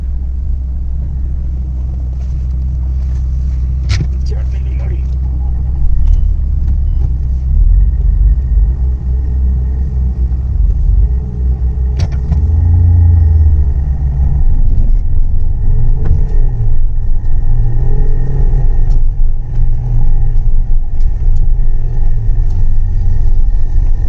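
A car drives a steep mountain road in the Kaza valley, its engine rumbling loud and close throughout, with steady low road roar that swells slightly midway as it labors along.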